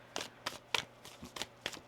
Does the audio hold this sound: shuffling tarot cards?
yes